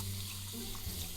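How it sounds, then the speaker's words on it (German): Water flows from a tap for hand washing with soap, a brief steady rush of running water over a low background hum, without speech. "Vielleicht besser mit Wasser und Seife waschen."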